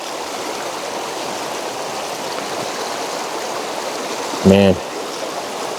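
Steady rushing flow of a silty glacial meltwater stream in Alaska, loud and continuous throughout, with someone briefly speaking near the end.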